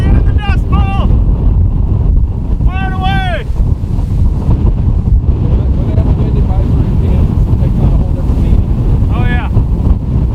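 Strong outdoor wind buffets the microphone in a loud, continuous, low roar that never lets up, with brief voices and bird-like squeaks rising faintly above it at times.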